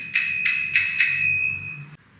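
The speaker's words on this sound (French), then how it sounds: "Ça, c'est le klaxon officiel." A horn billed as the official horn sounds four quick bright ringing blasts in a steady rhythm, close and fairly loud, with a faint low rumble underneath and no talking.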